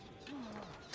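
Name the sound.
birds chirping in video game Assassin's Creed: Revelations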